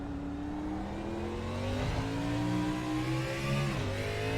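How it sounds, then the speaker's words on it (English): An Xfinity race car at COTA drops gears hard up the hill toward turn 1, its steady engine drone stepping down in pitch through several downshifts, loud and close with no voices. "downshifting hard"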